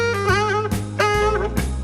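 Tenor saxophone holds a B flat with a big, fast vibrato shake, the pitch wobbling widely in repeated surges, close and loud with no talking, from the solo in a Christmas song.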